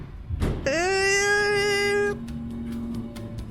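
A cat meows once in a long, drawn-out wail lasting over a second, loud and close, inside the horror video game Bad Summer, with faint ambient game noise after.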